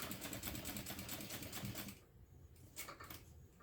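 A sewing machine stitches in a fast, steady mechanical rattle that stops partway through, followed by softer intermittent clicks and short bursts as the stitching resumes briefly.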